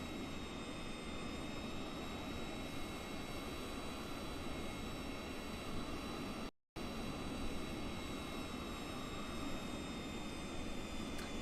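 Honda Jet engine in Microsoft Flight Simulator 2020, a steady whining jet drone with a broad rushing roar, unbroken except for a split-second dropout near the middle.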